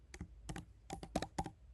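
Code being typed on a computer keyboard: about a dozen quick, close key clicks in irregular bursts, crisp and fairly quiet, with no talking.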